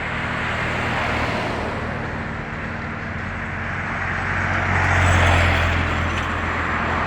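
Traffic rumbles along a main road in Udupi, Karnataka, a steady wash of passing vehicles that swells as one rolls close by near the end. Nobody speaks.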